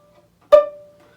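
A single bowed violin note, a D played with the third finger on the A string, starts with a sharp attack and fades out within about half a second.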